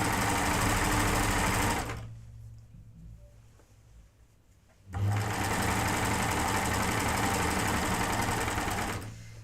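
A home sewing machine hems the bottom of a garment in two loud, steady runs of several seconds each, separated by a short quiet pause.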